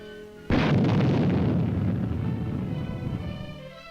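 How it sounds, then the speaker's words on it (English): A Little John all-weather rocket firing at a military demonstration, a sudden loud blast followed by a long roaring rush that slowly fades over several seconds. "Little John all-weather rocket."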